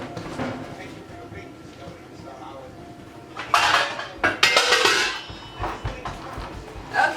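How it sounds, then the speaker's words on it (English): Metal pot lid picked up and set onto a cooking pot in a home kitchen, giving a few sharp clanks and clatters mid-way amid softer handling noise, with a person speaking nearby. "Then I'll grab a lid"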